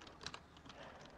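Someone types a chat prompt on a computer keyboard, producing a quick run of faint, soft key clicks heard alone for just over a second.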